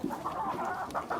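Layer hens on a poultry farm cluck and murmur close by, a few distinct rising calls over a soft continuous flock chatter, with no talking.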